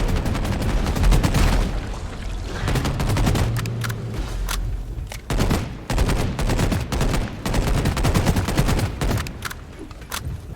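Gunfire in Deep Rock Galactic pours into a Praetorian as dense, rapid bursts of shots, some sustained and some broken by short pauses, loud and close throughout.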